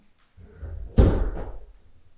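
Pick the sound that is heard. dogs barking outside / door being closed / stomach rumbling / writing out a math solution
door being closed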